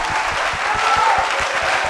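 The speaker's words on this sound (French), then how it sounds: "Acclamez pour ce ministère." Audience clapping together during a French-language church sermon, a dense, steady applause filling the room for about two seconds.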